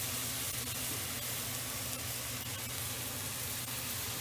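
Onions and garlic frying on high heat in a pan for lasagna, a steady dense sizzle that stays even and fairly loud throughout, with no talking.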